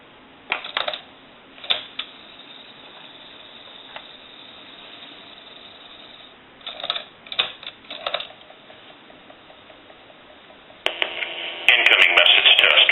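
An AT&T 1509 answering machine's cassette winds as the tape sets up, giving faint mechanical whirring broken by soft clicks and clunks, with a louder burst of noise near the end.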